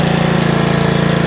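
A Honda Pro Kaaz lawn mower engine runs loud and close after a pull start, with a steady, rapid mechanical throb and no voices.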